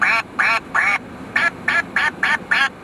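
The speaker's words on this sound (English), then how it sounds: "I'll literally give you a duck quacking at you right now so you won't be sad" A duck quacks eight times in quick, even bursts, loud and close, with short gaps between each nasal call.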